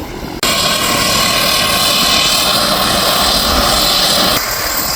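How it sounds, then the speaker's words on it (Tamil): A Twin Otter propeller plane of Fly Solomon Airlines roars loudly and close by in a steady, droning engine and propeller noise that starts abruptly and holds for several seconds. "இது ட்வின் ஆட்டர்."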